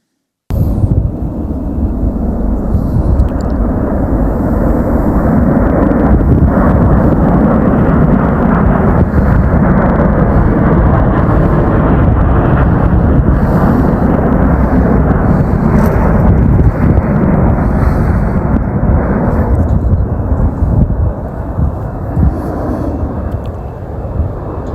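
Osprey tiltrotor aircraft pass low overhead, a loud, continuous, deep rotor-and-engine roar that fills the air and holds steady for the whole stretch before easing slightly at the end.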